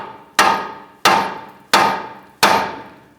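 Four sharp metallic hammer blows on the jam nut of a 2012-2017 Hyundai Accent inner tie rod, evenly spaced about two-thirds of a second apart, each ringing briefly and decaying, close and loud with no talk.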